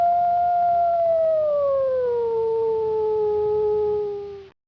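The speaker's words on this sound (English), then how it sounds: "they heard a really strange, low-compressed 88 kilobits per second howl" A heavily compressed, low-bitrate wolf howl from the Storybook Weaver Deluxe game: one long, steady tonal wail that slowly slides downward in pitch, loud and close, then cuts off abruptly.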